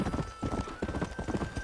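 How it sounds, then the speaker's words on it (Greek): Horses' hooves clip-clop steadily on a road in the video game Red Dead Redemption, a dense, close rhythm of several animals walking together with faint talk underneath. "Αυτά τα άλογα δεν μπορούν να κατέβουν."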